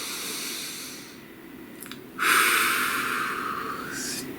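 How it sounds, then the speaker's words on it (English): A single deep, close breath drawn in and released, a soft airy rush over steady background hiss. "Please take a nice deep breath."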